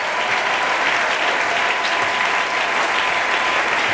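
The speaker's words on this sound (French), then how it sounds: "S'il nous a réellement bénis, on peut acclamer Jésus." Steady, dense applause from a worship congregation at a praise gathering fills the whole stretch, loud and close, with no voices rising above it.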